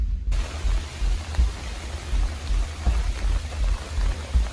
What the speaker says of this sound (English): So it's starting to rain